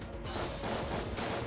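Dense stream of shooting in the bullet-hell game Enter the Gungeon, a continuous rattling barrage of small shots at moderate level with no pauses.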